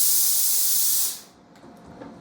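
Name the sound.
steam from a Laurastar Lift steam iron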